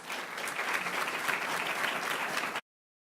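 A room of people at a school board meeting applauds students, a steady burst of clapping for about two and a half seconds that stops abruptly.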